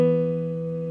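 A single keyboard chord of two notes a perfect fifth apart, built up from E, rings out for about a second, steady and slowly fading.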